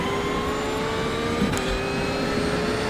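A Porsche race car in the iRacing simulation at the 24 Hours of Daytona, its engine a loud, steady tonal drone with a sustained high whine as it runs close alongside.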